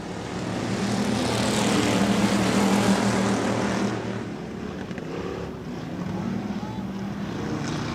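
Factory stock race cars roar as a heat race gets underway at a county fair speedway track, a dense, steady wash of engine noise that swells and eases slightly, with a voice faintly underneath.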